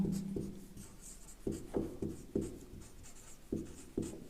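Chalk or marker writing on a board during a physics lesson, in short scratchy strokes separated by brief pauses, each stroke starting with a sharp tap, close and fairly loud with no talk.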